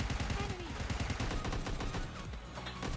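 Gunfire in the mobile battle royale game PUBG Mobile, rapid bursts of automatic shots in quick succession, loud and dense throughout, with a voice talking briefly underneath.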